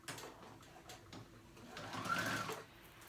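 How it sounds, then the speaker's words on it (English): A sewing machine stitches a kids' polo shirt, its motor whirring steadily and close for the whole stretch, then swelling louder near the end before easing off. "I sewed it all the way around."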